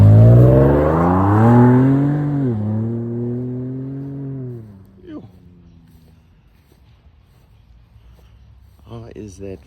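A Ford Raptor pickup engine drones from inside the cab while riding along, its pitch rising, dipping and easing away as the revs fall, followed by quieter rattles and knocks.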